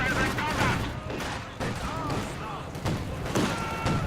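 Katyusha rocket artillery fire in a war video game, a continuous rumbling barrage of overlapping launches and thuds, loud and dense throughout, with voices mixed in.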